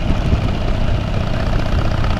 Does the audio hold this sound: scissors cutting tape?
no